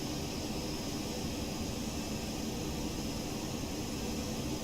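Boeing 737-200 jet engines in X-Plane 11 roar as a steady, even whoosh of airflow and engine noise on approach to Vancouver, unbroken throughout with no talking.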